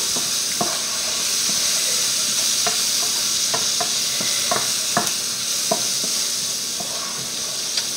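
Chicken curry with coconut and mushrooms frying in a pan, a steady loud sizzle with scattered clicks and scrapes of a utensil stirring, no talking.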